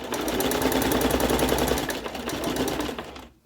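A lightweight sewing machine runs continuously, stitching a pink rug, with a fast, steady mechanical rattle that slows and stops near the end.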